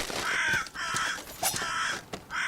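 Crows cawing in the video game Salt and Sanctuary: several harsh, repeated caws in quick succession, fairly close and loud, with no talking.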